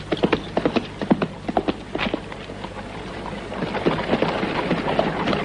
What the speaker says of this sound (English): Get those horses of yours moving, Tom.